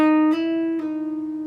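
Electric guitar note on the G string, hammered on to the 9th fret and pulled off slowly, a clear sustained tone with two soft articulations as the pitch shifts, played alone.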